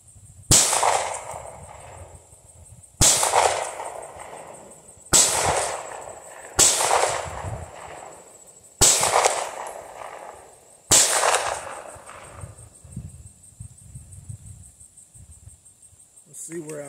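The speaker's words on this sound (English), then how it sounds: "I'm going to go ahead and try to make some shots here at distance" Six sharp pistol shots from a PSA Dagger fitted with a Glock performance trigger, fired at distance outdoors, spaced irregularly a second or two apart, each loud crack trailing off in a ringing echo.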